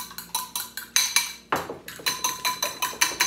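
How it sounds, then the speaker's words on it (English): A fork whisks eggs with salt and pepper in a bowl, giving rapid rhythmic clinks and taps against the side, close and steady with one brief scrape midway and no talking. "I'm going to whisk these up"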